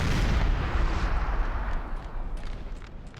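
Six-pounder and three-pounder artillery cannon fire in the video game Napoleon Total War, a loud booming blast up front that rolls and fades over several seconds.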